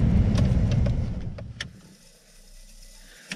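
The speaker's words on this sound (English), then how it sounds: "So he's turning off the vehicle" A hunting guide's vehicle idles with a low, steady engine rumble and a few small mechanical clicks, then shuts off at about the two-second mark, leaving only quiet outdoor ambience.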